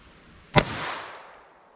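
A single sharp crack of a CCI Uppercut .22 Long Rifle round fired into ballistics gel, one loud close report followed by a short fading echo.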